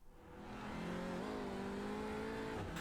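A race car engine in a sim racing onboard hot lap climbs steadily in pitch under acceleration, shifts once, and keeps pulling at a high, whining rev, heard steadily from inside the car.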